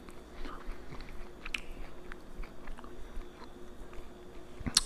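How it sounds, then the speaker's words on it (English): Someone chewing up probiotic tablets, with a steady run of soft crunching and biting sounds close to the mouth, some sharper clicks, and no talking. "Chewing up the probiotics."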